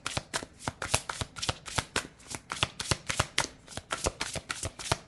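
Aloha oracle cards get shuffled in quick rhythmic riffles, a close, crisp flurry of card snaps that continues steadily with no voices.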